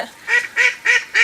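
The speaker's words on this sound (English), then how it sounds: "Those aren't my ducks, by the way. Those are Megan's." Ducks quack four times in a steady rhythm, nasal calls that sound close and clear with quiet gaps between them.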